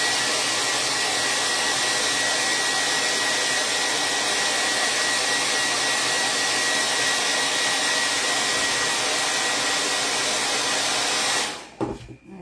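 A hair dryer runs loud and steady while drying a chalk and bead craft project. The whir keeps up close and unbroken for about eleven seconds, then clicks off.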